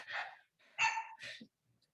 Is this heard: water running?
no